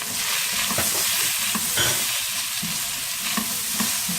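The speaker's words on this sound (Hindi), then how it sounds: "जब हम जिंजर गार्लिक पेस्ट को तेल में फ्राई करते हैं वेजिटेबल्स के साथ" Ginger garlic paste frying in oil with bell pepper and other vegetables over high heat, giving a loud, dense, continuous sizzle with faint stirring scrapes, close and with no voices.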